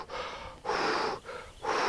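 A person imitates the heavy, nervous breathing of golfer Phil Mickelson: three loud, breathy inhale and exhale cycles, close to the mic, with no talking.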